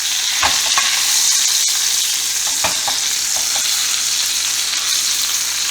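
Tomahawk ribeye sears in a hot pan while being basted with butter, a dense, steady, close sizzle with a few soft clicks and scrapes.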